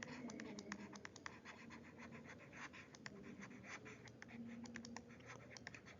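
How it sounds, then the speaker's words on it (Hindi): Pen scratching across paper in quick, light, irregular strokes, close and quiet, with faint background hum. "मैं ऊपर लिख रहा हूँ"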